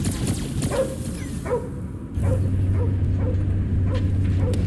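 Cosmo the dog from the Guardians of the Galaxy video game gives short yips and barks mixed with high whimpers, in repeated bursts over a rumbling background. A steady low hum joins partway through.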